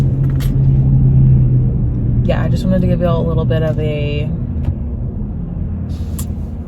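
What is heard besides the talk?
car driving, engine rumble from inside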